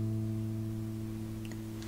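On a bass guitar, an A rings from the second fret of the G string, a faint, sustained tone with nothing else over it.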